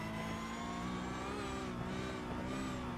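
Porsche Cup race car engine in iRacing holding a steady, loud high-pitched drone with slight pitch wavering as power goes down out of a corner, with no voices.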